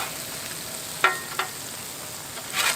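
Butter-basted smashburgers sizzle on a Blackstone griddle, a steady close hiss broken by a couple of sharp scraping clicks and a brighter flare of crackle near the end, with no talk.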